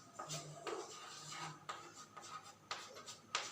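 A pen scratches out an equation by hand in short, close strokes with brief pauses between them, faint and dry with no voice over it.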